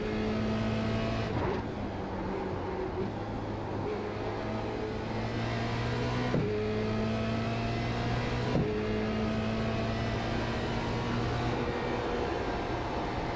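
A Formula Renault 2.0 race car engine in the iRacing simulator at Watkins Glen drones steadily and evenly, with a few sharp gear shifts spaced several seconds apart.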